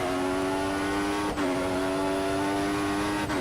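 A Formula 1 car engine in the F1 2014 racing game, revving hard on a straight at Bahrain: a loud, steady high-pitched whine with two sharp pitch drops at gear shifts, alone and close.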